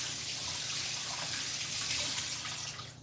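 Tap water runs steadily into a sink while hands are washed beneath it, a broad continuous splashing hiss close by that tapers off near the end.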